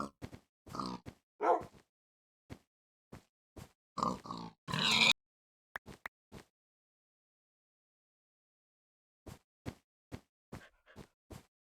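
Pig in a video game giving repeated short grunts and oinks in scattered bursts, close and fairly loud, separated by silent gaps.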